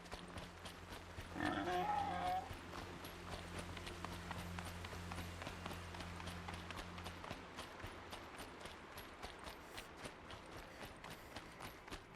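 A wild boar in Horizon Zero Dawn trots with a steady, rapid patter of hooves. A brief squealing cry rises early on, then the hoofbeats continue faintly under low ambient game sound.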